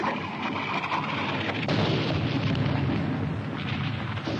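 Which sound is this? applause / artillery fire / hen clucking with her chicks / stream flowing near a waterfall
artillery fire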